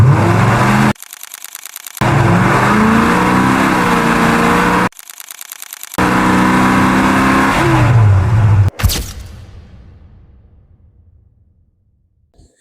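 A car drives and revs at a Latvian motoring show, loud engine noise in choppy segments broken by short gaps, ending with a sharp hit and a long fading tail.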